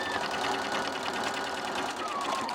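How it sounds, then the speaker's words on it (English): A sewing machine runs in one continuous, rapid stitching burst while finishing the top edge of an angel wing top, holding a steady mechanical whir close by throughout, with no pauses. "And then you just finish sewing off the top, making sure that you're keeping this nice and flat as you go along."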